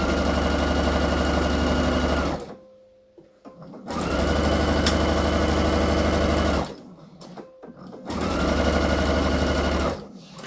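Sewing machine stitching a blouse seam, three loud steady runs of rapid mechanical whirring, each about two to three seconds long, separated by quiet pauses with faint handling clicks.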